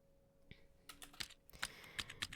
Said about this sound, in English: we're typing